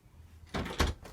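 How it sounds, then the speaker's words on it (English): Close-up UPVC door being shut and its handle lifted: two firm thuds about a quarter second apart, the second louder, with no talk. "if you shut the door and you lift the handle up"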